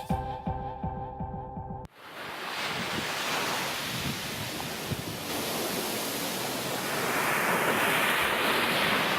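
Ocean waves wash onto a Cayman Islands beach in a steady, dense roar that swells slightly toward the end, after a short snatch of music at the start.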